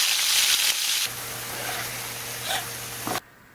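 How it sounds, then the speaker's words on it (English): Bacon sizzles and crackles in a pan on a home stove, a loud, close hiss that drops in level partway through and then cuts off near the end. "I'm about to show the cooking bacon"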